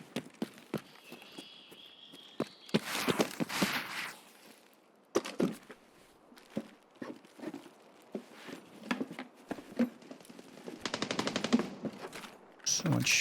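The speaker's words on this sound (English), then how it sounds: "So much shooting." Gunfire in the game Escape from Tarkov, with bursts of automatic fire and scattered single shots at varying distances, some near and loud, others distant, along with footsteps and movement in between.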